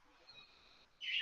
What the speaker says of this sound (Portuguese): Então, o passarinho tá cantando aí.